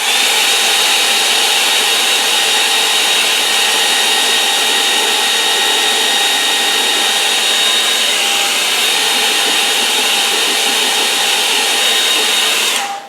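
A hair dryer blows steadily and loudly over a watercolour painting, a continuous close whoosh with a faint whine, then cuts off abruptly at the end.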